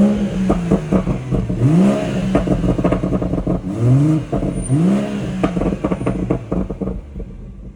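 BMW M140i exhaust with DSC switched off, revving hard in repeated rising bursts that climb and fall several times, loud and close throughout with no talking.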